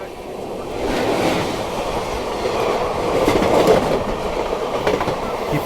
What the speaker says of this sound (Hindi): मेरे ख्याल से ये कोई स्पेशल ट्रेन होगी, शायद से दानापुर SMVT स्पेशल होगी।